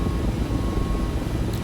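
Mi-17MTV5 helicopter hovering in a flight simulator, a steady, loud, broadband rotor and engine roar with no talk.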